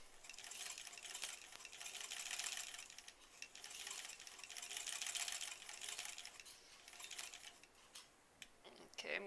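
A sewing machine stitching a bunny stuffed toy, a fast, steady mechanical whir with brief pauses and restarts, fairly close and moderately loud, under quiet background sound.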